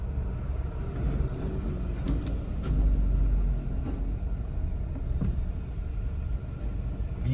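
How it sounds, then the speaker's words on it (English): Vehicles moving in road traffic in Montego Bay, Jamaica: a steady low engine rumble with cars passing nearby, a heavier surge of motor noise midway and a few faint clicks over the continuous drone. "Vehicles cutting the line."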